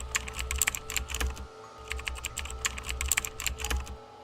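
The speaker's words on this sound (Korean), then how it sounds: "키보드를 만지지 않았는데 화면에 글자가 타이핑되기 시작했다." Rapid computer keyboard typing in two bursts of clustered keystrokes, split by a short pause, over a low steady hum, with no voices.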